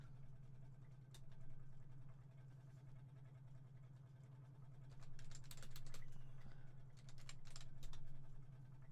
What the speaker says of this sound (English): I'm literally just typing in real fast